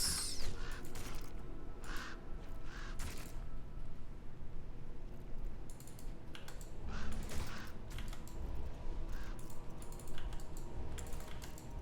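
Ravens cawing in an online multiplayer game, several short caws rising over steady keyboard typing and clicking, mid-level and intermittent across the stretch.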